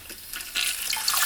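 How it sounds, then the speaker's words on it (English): Bidet nozzle spraying water in self-cleaning mode, a soft hissing spray that swells louder halfway through and continues steadily, with no voices. "It's gonna shoot up water."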